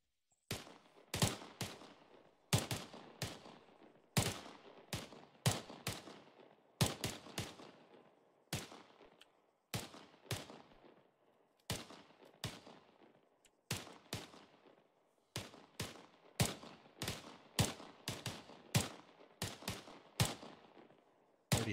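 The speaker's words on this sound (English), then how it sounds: "On the command, 5 rounds prone. Reload, 5 rounds prone. Total 10 rounds." Rifle shots crack across a Marine Corps range as shooters fire prone, many sharp loud reports in uneven clusters with gaps between strings, each shot trailing a short echo.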